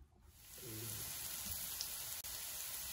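Breakfast casserole ingredients sizzle in a hot pan, giving a steady, close frying hiss that holds evenly after a short rise at the start.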